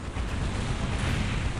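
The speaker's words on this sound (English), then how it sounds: "Lehman Russ with its plasma cannon really causing some issues here for the Force of Chaos." Leman Russ tank plasma cannon firing in the Dawn of War strategy game, a dense, sustained roaring blast of energy fire and rumbling impacts filling the whole moment, loud and continuous without a break.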